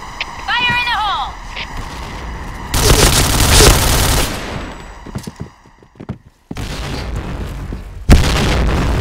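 A grenade explodes during a Point Blank shooter match on the Sandstorm or Downtown map: a loud, roaring blast with crackling gunfire around it and short game voice callouts.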